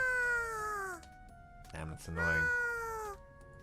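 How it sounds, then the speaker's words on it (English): A cat meows in the visual novel game ToHeart2, two long drawn-out cries, the second rising after a brief pause, loud and close, with a voice speaking briefly between them. "Some cat is meowing."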